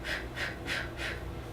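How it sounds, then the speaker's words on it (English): Four short, light puffs of breath blown out in an even rhythm, close and soft, demonstrating a labour breathing technique with nothing else heard around them. "You want to blow out with short, light breaths."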